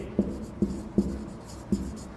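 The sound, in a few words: writing during a lesson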